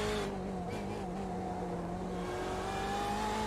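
A BMW race car engine at Sebring in iRacing drones steadily at high revs, a continuous loud tonal whine shifting pitch slightly through the gears, with no talk.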